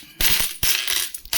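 Uncirculated 20 rupee coins from the Hyderabad mint, dated 2020, drop and clatter in three quick bright bursts of metallic jingling, close and fairly loud, with no talk.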